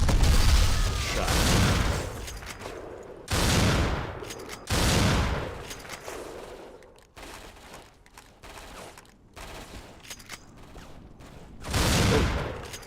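Video game gunfire rips out in loud, dense automatic bursts mixed with heavy booms. Several long volleys are separated by brief lulls, and the loudest barrages come near the start, the middle and the end.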